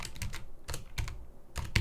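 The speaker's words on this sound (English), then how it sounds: "I'm so tired of typing super." A computer keyboard clicks in quick clusters of keystrokes with short pauses between bursts, steady and close but fairly quiet, as code is typed without anyone speaking.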